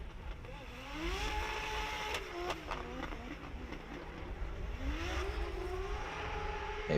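A Toyota GT86 drift car runs during a qualifying session at Raubichi, its engine revving up and down in sweeping whines that rise and fall, heard at a moderate distance over crowd and ambient noise.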